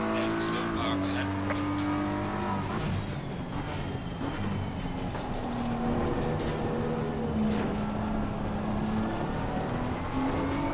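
Race cars in Assetto Corsa Competizione droning steadily through a lobby race, engine tones rising and falling with gear changes, one continuous loud layer under occasional talk.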